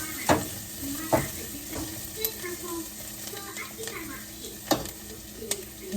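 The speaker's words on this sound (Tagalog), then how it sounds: "And yun, nagigisa na tayo" Onions and garlic sauté in oil in a pan, sizzling steadily while a spoon stirs and scrapes, with several sharp clacks of the utensil against the pan rising above the frying.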